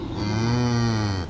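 A cow on a farm gives a single loud, close moo, one sustained low call lasting just over a second.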